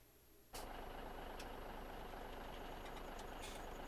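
A big semi-truck engine in a farming game starts up abruptly and settles into a steady, continuous rumbling idle, fairly loud and alone with no talking.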